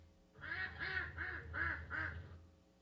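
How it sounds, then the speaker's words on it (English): A recorded duck quack played through an Alexa smart speaker gives five quick nasal quacks in an even rhythm, faint and slightly distant, with no speech over them. "Here's a duck quack."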